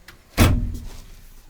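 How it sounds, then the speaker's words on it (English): Fold-away flip shelf in the shelving of a Sprinter van being handled, giving a single sharp knock or clack followed by a short rattling tail, close and loud in a quiet space. "on this side is the flip shelf, fold-away shelves"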